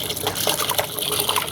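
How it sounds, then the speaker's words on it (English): Water pours from a bottle in a continuous gurgling, splashing stream, close and moderately loud, lasting under two seconds. "so I'll pour the same water from the same bottle."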